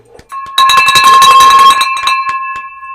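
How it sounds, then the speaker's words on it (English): A bell rings repeatedly with bright sustained metallic tones, loud and close, struck in a quick cluster of rings that then fade out. "I want to ring the bell"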